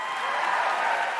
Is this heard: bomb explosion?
no